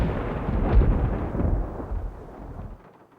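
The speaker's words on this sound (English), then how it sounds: "Whoa, that bolt of lightning was huge." Thunder from a huge lightning bolt in the Nancy Drew Legend of the Crystal Skull game: a deep rolling rumble that swells, then slowly fades to silence over about three seconds.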